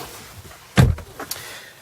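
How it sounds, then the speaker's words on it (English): Door of a 2022 Tesla Model Y released by pressing its black handle: a single close, solid unlatching thunk, then a couple of fainter clicks as the door swings open. "the door opens with a press on the larger part of this"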